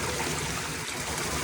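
Water pours steadily from a village tubewell pump in the evening, a continuous rushing splash that fills the short moment.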